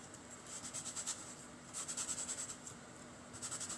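A scallop cutter pressing and wiggling through rolled-out sugar paste makes faint, soft scraping and rubbing strokes in short rhythmic bursts, with quiet gaps between them.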